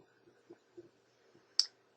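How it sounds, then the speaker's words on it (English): A computer mouse button gives one sharp, crisp click near the end, preceded by a few faint soft ticks in an otherwise quiet room. "I'm going to click on this button so you'll see what you get."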